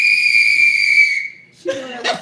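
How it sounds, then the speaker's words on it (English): A whistle gives one loud, sustained, high blast lasting about a second, then fades. A brief burst of chuckling laughter follows. "She blow that whistle one more time"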